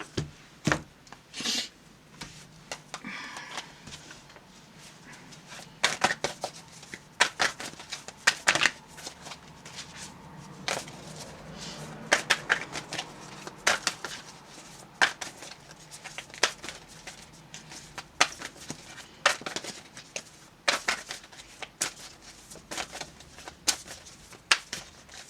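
Oracle cards are shuffled by hand before a shaman card is drawn, repeated papery riffles and slaps in uneven bursts, close and fairly crisp, with quiet gaps between rounds.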